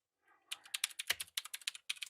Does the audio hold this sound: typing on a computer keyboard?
yes